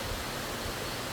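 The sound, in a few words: water gushing from a spring-water pipe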